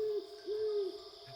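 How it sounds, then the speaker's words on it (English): An owl in the video game Wytchwood gives two soft, low hoots, the second longer and drawn out, over a steady ambient hum. "translating the owl's hoots into something more understandable"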